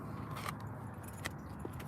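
Car keys jangle in a few light metallic shakes as a car is switched off, close and faint over a steady low background rumble.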